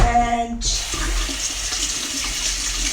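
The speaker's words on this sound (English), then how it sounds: "I'm going to add milk." Milk poured into a pot of homemade mac and cheese: after a brief quiet moment, a steady, fairly loud rush of liquid begins and runs unbroken to the end, with no talking.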